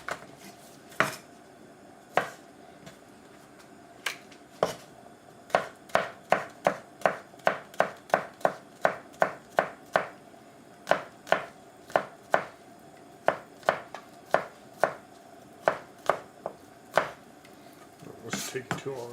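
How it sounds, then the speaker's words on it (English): A knife chops green onions on a cutting board, starting with a few scattered strikes and then settling into a fast, even run of crisp, close knocks, with no talking. "the other things that are going to go into this are some green onions. We're going to chop up right now."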